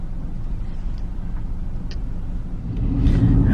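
A car driving along the edge of Lake Latonya in Medicine Park, Oklahoma, heard from inside as a steady low road rumble and engine hum that swells slightly louder near the end, with no voices.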